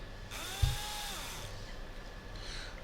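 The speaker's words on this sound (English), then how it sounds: "why they're wasting so much time drilling there" A drilling machine in the post-apocalyptic role-playing game Underrail grinds on with a thin, steady mechanical whine and a brief clunk near the start, fairly quiet and continuous, with no voices.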